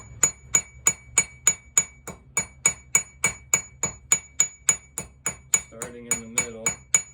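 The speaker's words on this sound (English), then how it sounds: "So hammer down just to establish our face, and then use the cross peen." A cross peen hammer strikes hot metal to shape a small leaf, a steady rapid series of about twenty sharp ringing blows with bright metallic overtones, and a voice briefly speaks under the last few strikes.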